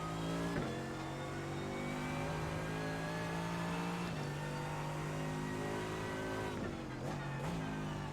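A GT3 race car engine in the iRacing simulator howls steadily on a flying lap at Daytona. It holds high revs with brief dips at upshifts, loud and continuous with no talk.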